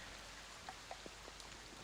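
Heavy rain falling steadily as a constant hiss, broken by a few louder drops and splashes on a surface, with no voices present.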